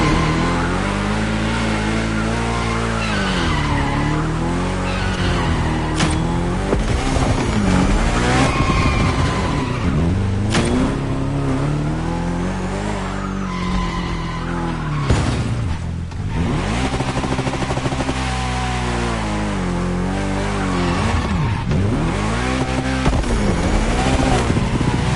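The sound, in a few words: car drifting with tire squeal in a racing video game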